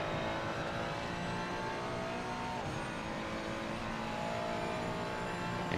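Race cars at speed on the Nürburgring Nordschleife during a four-hour endurance race, a number 8 Ferrari closely chased, engines droning loud and continuous with rising and falling revs throughout.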